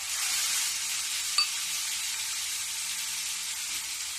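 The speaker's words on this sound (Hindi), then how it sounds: "अब इसको थोड़ी देर मैं भूंजूंगी" Paste of onion, garlic, ginger and green chili sizzles steadily in hot oil in a pan over medium flame, a continuous even hiss with one brief clink of stirring partway through.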